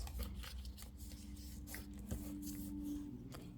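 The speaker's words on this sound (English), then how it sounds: "So first, you want to fold it diagonally like this" Sticky note paper being folded diagonally gives soft rustles, brushing and a light crease, close up and quiet, with a few faint taps scattered through.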